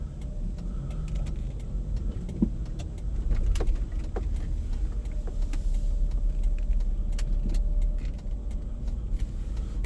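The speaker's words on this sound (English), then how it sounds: "Let's hear what the streets sound like." Street traffic in East Harlem, heard from inside a car, forms a low, steady rumble of passing vehicles with scattered clicks and small knocks nearby. No one talks.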